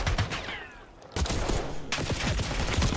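Gunfire in a Call of Duty esports match, with rapid bursts of shots crackling across the clip and a brief lull near the one-second mark before the shooting resumes densely.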